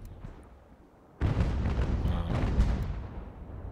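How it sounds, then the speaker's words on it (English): Naval cannons firing solid shot in an Ultimate General: American Revolution sea battle: a quiet lull, then a sudden loud booming barrage erupts and keeps rumbling with overlapping blasts to the end. "I'm shooting solid shot."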